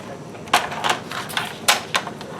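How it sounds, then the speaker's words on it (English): A paper cutter slices through paper for a junk journal, making several sharp, close clicking and scraping strokes at irregular intervals, with no talking over them. "Okay, so I am going to cut this to right about here."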